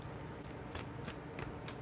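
A deck of tarot cards is shuffled and cards are drawn, giving crisp riffling flicks and several sharp snaps at irregular intervals, close and fairly quiet.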